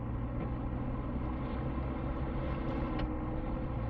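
A truck engine in the SnowRunner off-road game, fitted with an upgraded engine and churning through deep mud, gives a steady, dense low rumble that continues without a break and carries no talk.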